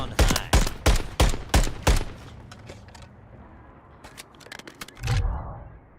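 Rapid gunshots crack in a tight burst of about six evenly spaced shots, then scattered quieter pops and a heavier thump during a competitive video game match.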